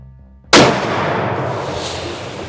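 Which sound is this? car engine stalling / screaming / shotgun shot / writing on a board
shotgun shot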